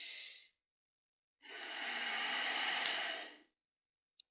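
Breathing during a standing-balance yoga session: a short exhale, a pause, then a long, steady, fairly loud breath of about two seconds that fades out, with a tiny click at the end.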